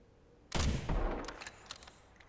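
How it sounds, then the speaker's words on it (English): Game pistol shots erupt as one loud crack followed by a rattling burst and a few scattered lighter impacts that fade out. "I'm probably gonna just hit that with the pistol, actually."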